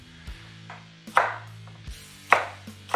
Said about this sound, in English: Dice up onion.